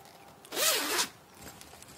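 A zipper on a hand-sewn fabric journal is pulled in one quick rasping zip lasting about half a second, close and clear, with a faint second tug afterward and no talking.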